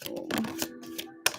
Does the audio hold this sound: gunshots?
no